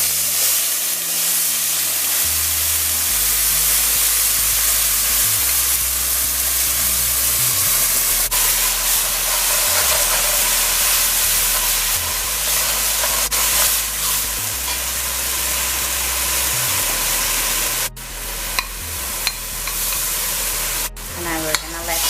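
Spice mixture sizzles and fries steadily in hot oil for a lamb dish, a loud continuous hiss with occasional stirring clatter and a couple of sharp utensil knocks near the end.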